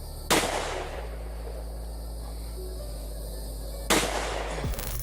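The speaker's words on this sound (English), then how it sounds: "Double-barreled shotgun. All right, here we go. Full loads." Two booming blasts from a double-barreled shotgun firing full loads, the first shot early and the second about three and a half seconds later, each loud and close over a steady low hum, with no talking.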